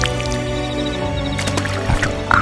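Thick, dark brown mud sludge squishes and drips in a few wet, sticky pulses over a steady tonal drone in the background.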